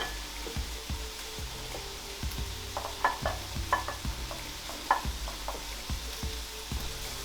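Thin pieces of pork sear in a hot pan for Korean-style BBQ pork, a steady loud sizzle with repeated scraping and stirring clicks of a utensil against the pan throughout.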